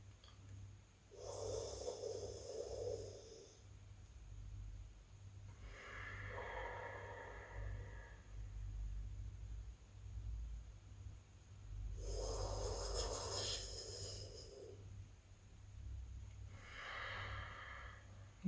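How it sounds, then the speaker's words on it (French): Slow, drawn-out breaths of a yoga cooling-breath exercise, heard close up: four long airy hisses, each lasting about two seconds, separated by quiet pauses. "passer sur cette respiration du cooling breath"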